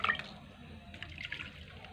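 A small amount of water poured into a cooking pan while making egg masala, a faint short splash and trickle at close range that fades quickly, with no speech.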